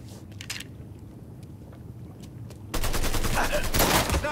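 Video game gunfire crackles in a shootout: a few sharp distant shots at first, then a sudden dense burst of loud, rapid firing that continues to the end.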